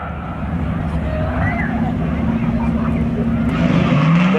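Race cars roar off together at the start of a speedway spectator drag race, a loud continuous engine drone rising in pitch near the end as they accelerate toward the first turn.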